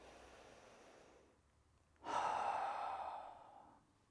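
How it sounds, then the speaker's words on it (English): Soft breath drawn in slowly through the nose, then a longer, audible exhale through the mouth swelling to a gentle rush and tapering off, close and alone in a quiet room. "in through the nose, out through the mouth"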